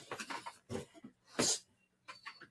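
An upset dog named Yona lets out short, close whines and snorty whimpers in a few brief bursts, separated by quiet gaps.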